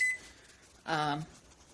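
A short electronic beep from a kitchen timer being set while cinnamon rolls rise, one brief tone near the end of the moment over a quiet room.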